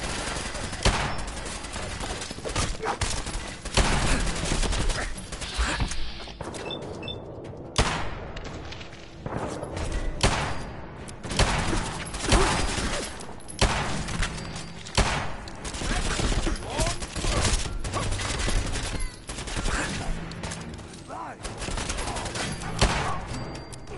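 Sustained, loud gunfire in the Fallout 4 video game, with dense bursts of shots and booming impacts running through most of the stretch and occasional voices mixed in.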